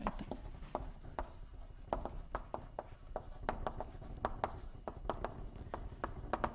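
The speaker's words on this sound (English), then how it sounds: "let me just write down." Writing on a board during a mathematics lecture, with chalk tapping and scraping in short, irregular strokes and clicks in a quiet, reverberant room, sounding close and moderately loud.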